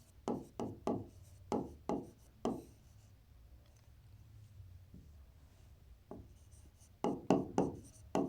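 A pen writes on paper during a maths lesson, giving a run of short scratchy strokes in quick bursts, then a quieter pause, then another cluster of strokes, close and clear.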